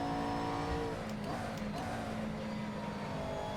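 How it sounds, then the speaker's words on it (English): GT3 race car engine in a racing sim at Canadian Tire Motorsport Park, a loud steady drone with harmonic whine and a brief shift in pitch as another car passes close by. "Of course, I let yet another car by me."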